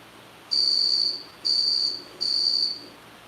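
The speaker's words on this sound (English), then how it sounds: "Alexa, what's a cricket sound?" A smart speaker plays a recorded cricket chirp: three sustained, shrill, pulsing trills, each about half a second long with short gaps between them, clear and alone over a faint background hum.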